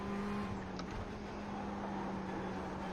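Ferrari 488 GTE race car engine in iRacing at the 12 Hours of Sebring, a steady, fairly faint engine drone holding a constant pitch for a few seconds with no voices.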